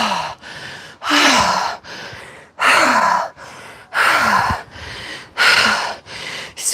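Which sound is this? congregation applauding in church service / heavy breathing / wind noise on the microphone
heavy breathing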